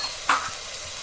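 Soy greens and green chillies drop into a hot frying pan for a Sindhi spinach curry, giving one brief hiss near the start that fades into a soft, steady sizzle.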